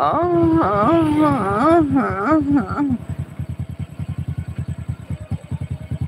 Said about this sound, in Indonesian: Ada nangisnya ya, gigi primernya ini masalahnya